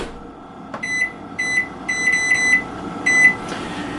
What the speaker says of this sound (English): We'll set a 30-minute timer.